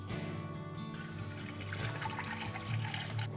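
Water pours steadily into a pot holding one cup of rice, a continuous close splashing gush with no talk over it.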